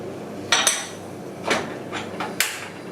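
A big cooking pot clanks and knocks as it is handled in a home kitchen during lasagna prep, with several sharp metallic bumps and scrapes spread across a few seconds, close and fairly loud.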